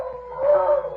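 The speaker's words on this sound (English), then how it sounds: "Not if he keeps howling like that, he won't." A big dog named Tiny lets out a single drawn-out howl that rises and holds as a radio show sound effect, close and clear with no talking over it.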